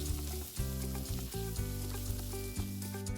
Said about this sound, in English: Once the onions turn translucent, add the turmeric or haldi powder. Stir everything nicely.